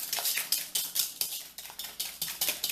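A metal whisk beats eggs and sugar in a bowl, a close, rapid rhythmic clatter of wire tapping against the sides, repeating steadily about four strokes a second with no voices.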